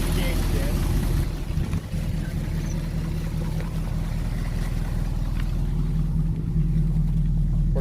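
Classic car engine with a 6-volt charging system running steadily under the gas, a dense continuous low rumble with some wind buffeting and little change in pitch.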